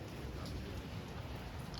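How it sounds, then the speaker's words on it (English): Light drizzle falls steadily outdoors over a garden, a soft, even patter of raindrops with no voices. "we have a little drizzle here going on"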